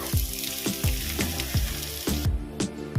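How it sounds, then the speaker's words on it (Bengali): Chopped onion fries in hot oil in a pan for a Bengali crab curry, a steady close sizzle with repeated low clunks of a spoon or spatula stirring at a regular pace. "পেঁয়াজটা ভালো করে ভেজে নেব"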